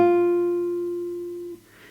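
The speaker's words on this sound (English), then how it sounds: "if I play the pitch on the first string on fret number 1," A single plucked guitar note on the first string at the first fret rings out clearly alone, decaying steadily for about one and a half seconds before it is damped.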